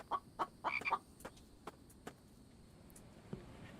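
In The Infected, a survival video game, chickens give short clucks in a quick cluster near the start, followed by faint scattered clicks and taps at low volume.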